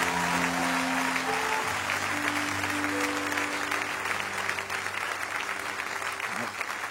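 Applause from a church congregation acclaiming the Lord at a Pentecost service, a steady, dense clapping wash that carries on for several seconds with voices mixed in.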